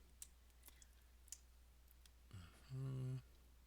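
A computer keyboard clicks with a few sparse, light keystrokes over a low steady hum, then a voice speaks briefly.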